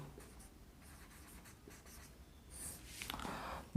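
Chalk or a pen writes on a board during a Hindi grammar lesson, a run of soft scratching strokes that grows busier toward the end, close and quiet with no talk.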